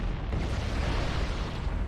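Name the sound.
explosions as life pods are destroyed, from a Halo video game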